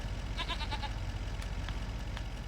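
Goats in the farming video game Farming Simulator 25 bleat in a few short, wavering calls over a constant low engine-like drone, moderately close and alone without talk.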